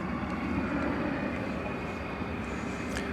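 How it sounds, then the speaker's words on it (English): A United jet at DFW Airport, heard as a steady, broad engine roar that holds level throughout, fairly loud and continuous with no talking over it. "There's that United jet waiting its turn to go to the city adjacent to the bay."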